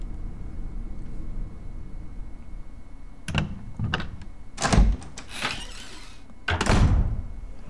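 A heavy mansion door opening in the Resident Evil REmake video game, with a series of loud thuds and scraping clunks in the second half over a low, rumbling ambient background, with no talking.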